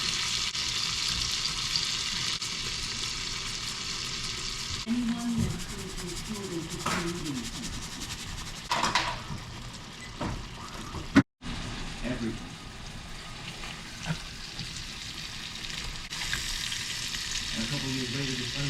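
Onions and pepper frying and sizzling in a pan for a crappie dish, a steady crackle with occasional stirring scrapes, while a voice talks intermittently over the cooking and a brief sharp break cuts in midway.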